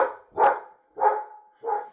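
A dog gives three loud, deep barks spaced about half a second apart, close by, with silence between them and no talking.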